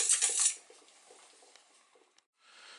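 A utensil clinks and scrapes against a pan while melted fat for bird feeders is stirred, a brief bright clatter followed by soft, quiet scraping.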